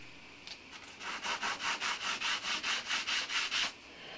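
Rhythmic back-and-forth sanding on wood for a model bridge build, about eleven steady even strokes, close and fairly loud with no talking.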